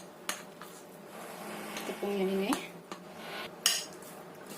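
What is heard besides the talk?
stirring potato dough with flour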